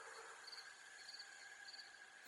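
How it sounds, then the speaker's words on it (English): Hidden insects chirp and buzz without pause, a steady, faint chorus with a few brighter repeating chirps against soft background hiss. "hidden insects chirped, buzzed, hissed and croaked"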